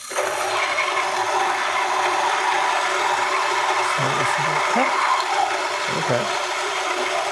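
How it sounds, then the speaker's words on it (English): An electric coffee grinder runs at a relatively slow, steady speed in a home kitchen, giving a continuous close mechanical whir with a brief spoken word over it. "So relatively slow RPM grinder"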